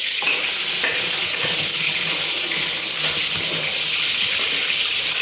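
Running water splashes and swishes steadily as land snails are rinsed and rubbed by hand in a basin, loud and close, with a continuous hiss throughout.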